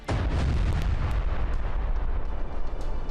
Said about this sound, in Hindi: यूक्रेन ने लुहांस्क पर मिसाइल हमला किया